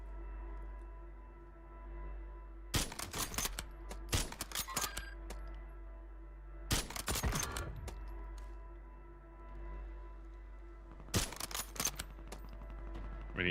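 Gunfire in the video game Call of Duty Warzone: three separate bursts of rapid shots around a low steady hum, each a cluster of sharp cracks, with quieter gaps between them.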